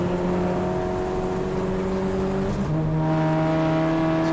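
Audi TT race cars blast down the pit straight with a loud sustained engine note, a gear change shifting the pitch midway, steady and close with no voices.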